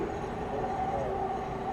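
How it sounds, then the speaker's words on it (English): Steady rumbling ride aboard the JFK airport people mover, a light rail train, with continuous wheel and motor drone and a faint high whine, heard from inside the car without talk. "a people mover, which is the type of train we're in, which is considered light rail"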